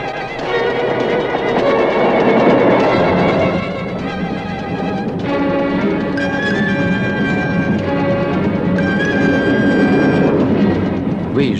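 A train in the game Service Secret: Le Dernier Train pour Halt Bufflers, heard as a loud, steady rumble with tonal mechanical whining and hum, continuing without pause and with no talk.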